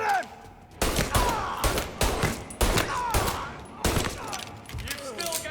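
Bursts of 1930s gangster gunfire in the video game Mafia: Definitive Edition, several loud, separate volleys of shots ringing out close by, with shouting voices in between.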